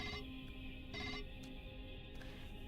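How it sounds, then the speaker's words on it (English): An office telephone in a video game rings with a repeating electronic trill, quiet and steady over a low background hum. "the phone in your office rings"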